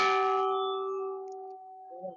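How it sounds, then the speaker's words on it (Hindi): A single strike of a large 51 kg metal temple bell for Lord Shiva, carried by kanwar pilgrims during Mahashivratri, rings out loudly and then decays in a long, steady, shimmering hum, with a faint voice at the end. "ये इस समय आप देखिए घंटा है भोले भोले बाबा का"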